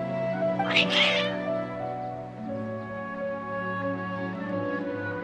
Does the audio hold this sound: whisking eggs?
no